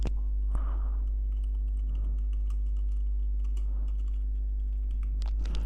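Computer keyboard typing in a text box during a PowerPoint data entry task, with a steady run of soft key clicks over a constant low hum, no voices.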